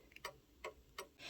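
Count wheel mantle clock ticking in beat, an even tick-tock with three evenly spaced crisp ticks close by, then a soft rustle at the end.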